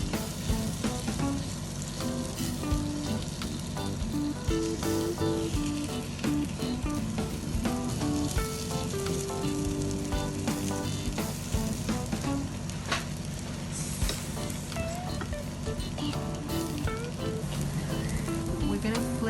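A flattened scoop of potato fries in a hot pan with a dense, continuous sizzle that holds steady throughout, close and bright, with faint background activity but no clear talk.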